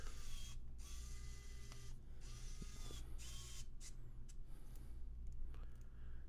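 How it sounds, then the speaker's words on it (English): Small screws being driven in to secure a computer motherboard, a faint mechanical creaking and ratcheting over a steady background hum, with brief squeaks and scrapes close by and no talking. "Let me get these screws in to hold the motherboard in just a little bit"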